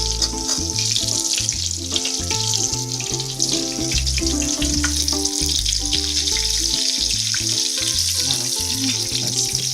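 Mozzarella sandwich skewers frying in hot oil, a dense, steady crackling sizzle that runs throughout alongside a low rhythmic background tone, with no talk.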